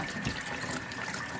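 Chitterlings rinsed in cold water, a short steady run of splashing, trickling water close by.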